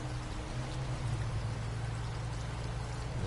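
Steady pouring, splashing flow of a small river in the Snowrunner game, continuous and moderately faint, over a low humming vehicle engine.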